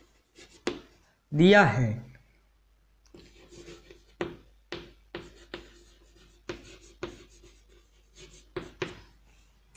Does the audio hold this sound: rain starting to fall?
no